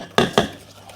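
Creamed butter and sugar are stirred in a bowl, with two sharp utensil knocks against the bowl close together, followed by quieter soft mixing.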